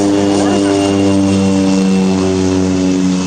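A propeller airplane passes low over Stanley Park with a loud, steady droning roar and strong engine hum that fills the whole moment, close and continuous.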